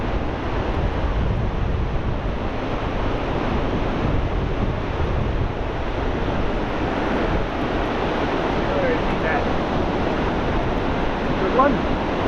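Sea waves break steadily on Brean Beach, a continuous broad roar of surf with heavy wind buffeting the microphone throughout and no clear pauses.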